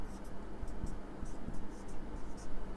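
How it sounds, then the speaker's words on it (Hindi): A pen or marker writes out a chemical formula during a chemistry lesson, with faint scratchy strokes in short irregular bursts over a low background hum. "इसके फार्मूले को यदि हम कहें तो ऐसे भी लिख सकते हैं"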